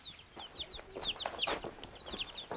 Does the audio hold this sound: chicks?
yes